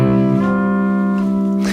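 A sustained chord on an acoustic guitar rings out while a strap-button B-Bender raises the pitch of the B string, a smooth upward bend in one held note.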